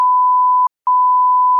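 A loud, pure censor beep covers a spoken name, one steady tone with a brief gap splitting it into two parts, alone with no other sound.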